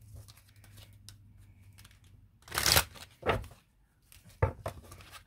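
Tarot cards being shuffled by hand, with several loud papery slaps and riffles as extra cards spill out, in uneven bursts between softer rustling, close and clear with no talk.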